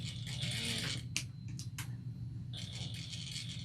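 A sewing machine stitching raw fabric edges together for a chevron shoulder bag, running in short mechanical bursts with a whirring, clicking motor, pausing briefly in the middle with a few sharp clicks, then starting up again nearby.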